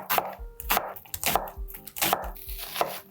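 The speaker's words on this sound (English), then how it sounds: "I'm just gonna cut the onion lengthwise into thin strips" A knife chops an onion lengthwise into thin strips on a board, giving repeated sharp, steady strokes about every half second, close and clear with no talk.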